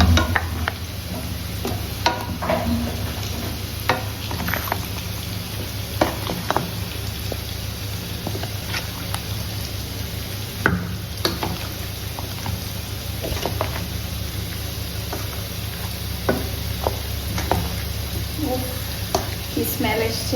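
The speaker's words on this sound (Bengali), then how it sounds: "এবার আমি কাঁঠালটার মধ্যে একটুখানি অয়েল দিয়ে মাখিয়ে নেব।" Oil being mixed by hand into cooked jackfruit (kathal) for a sabji, giving soft wet squelches and light stirring taps with scattered sizzle-like crackles, steady and close, no talk.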